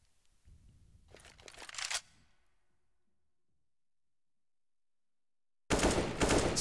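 Gunfire spray from a Counter-Strike match on the Overpass map: a dense, rapid burst of shots over about a second and a half, fading out, then another loud, sharp volley cutting in near the end after a quiet gap.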